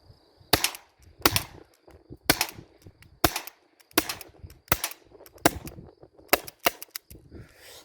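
An HDR 50 revolver fires about a dozen sharp, loud shots in an irregular rhythm, each a hard crack with a short tail, close by and with no talking.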